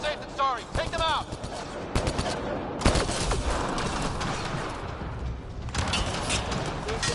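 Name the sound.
gunfire in the video game Mass Effect Andromeda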